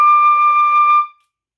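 A single high D note on a flute, pure and held steadily for about a second, then cut off cleanly into silence.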